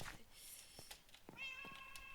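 Short meows from a cat in a horror video game, a few clear tonal calls over a quiet electronic background, with one longer drawn-out meow near the end.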